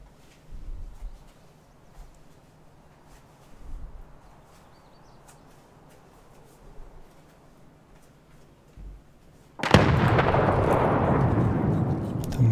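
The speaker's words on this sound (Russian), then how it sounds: "Еще гранаты взрываются." A grenade blast in the Escape from Tarkov shooter game arrives as a sudden loud burst with a long rumbling tail near the end, following quieter thumps and ambient noise.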